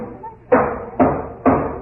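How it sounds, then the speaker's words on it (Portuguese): An axe breaking down a door, a radio drama sound effect from 1948: three loud, close, evenly spaced heavy wooden thuds, each fading quickly, over faint background murmur. "um dos meus primos foi buscar um machado e começou a arrombar a porta"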